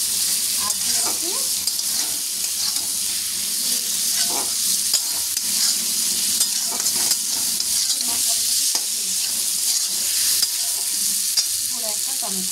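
Steady close sizzle of onion, ginger, tomato, green chillies, turmeric, chilli powder and cumin frying in a pan, with intermittent stirring scrapes throughout and no voices.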